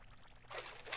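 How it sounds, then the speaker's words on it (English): Water pouring and trickling from a fountain, a soft splashing flow that swells louder partway through. "The fountain. The water."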